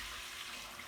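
Homemade bone broth pours steadily into a bowl in a short, faint, continuous liquid stream.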